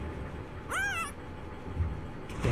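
A cat gives a single clear meow with a rising and falling pitch, close and distinct over a quiet background hum, with a faint rustle near the end.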